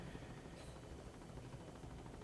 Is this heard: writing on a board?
no